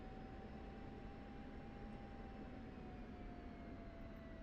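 An F-16 jet in the DCS flight simulator drones steadily, a faint continuous engine hum with a thin high whine and no voices.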